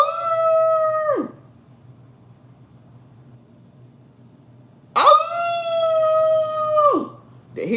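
A dog howls in two long, loud, wavering calls that hold steady and then drop off at the end, with a quiet pause between them and a short third call starting at the close.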